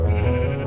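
A sheep in a video game bleats once in a loud, sustained, wavering call that fills the whole moment, close and alone with no talking.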